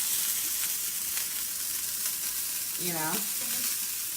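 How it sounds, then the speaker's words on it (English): Lamb chops searing in a hot pan, a loud continuous close sizzle that fills the whole stretch, with a brief voice speaking over it near the end. "we get this really nice sear on these chops"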